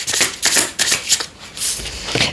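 Tarot cards shuffled by hand in quick riffling bursts, close and fairly loud, a few rapid flutters in a row with no talk over them.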